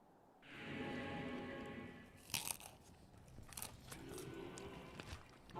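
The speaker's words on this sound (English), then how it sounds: "What am I munching on? Broccoli." Raw broccoli gets munched in a few crisp, crunchy bites, each followed by wet chewing. The sounds are close to the mic over a steady hum of game sound.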